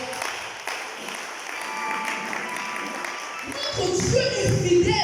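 Church congregation applauding and cheering for the Lord during a worship service, a broad wash of clapping that swells louder near the end, with voices mixed in.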